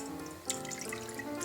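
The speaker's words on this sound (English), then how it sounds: "I'm going to be pouring in some vegetable stock" Vegetable stock pours into a saucepan as risotto liquid, a soft close trickle with a few splashy drips, quiet and unaccompanied by talk.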